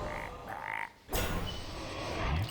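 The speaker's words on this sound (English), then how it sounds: "And it's a fighting frog." A cartoonish frog croak from the Hex spell in Hearthstone, a digital card game, sounding loud and close after a brief magical whoosh, with a low croaking tail at the end.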